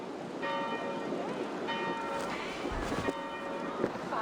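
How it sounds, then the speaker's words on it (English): Church bells peal in the distance in Assassin's Creed Valhalla, several tolls ringing out at a steady pace over a soft rain-like ambient wash. "Do you not hear the bells?"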